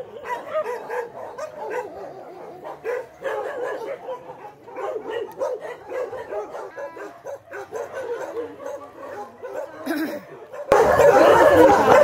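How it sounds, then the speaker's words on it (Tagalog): Several dogs inside a kennel at a church member's house bark and yip in quick, overlapping bursts at close range, with whimpers mixed in, before a loud burst of rough noise at the end. "Dito meron pang isang kulungan ng mga aso."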